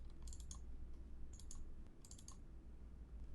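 Bursts of typing on a computer keyboard, clusters of crisp key clicks in three separate runs over a low steady room hum, fairly close and moderately loud.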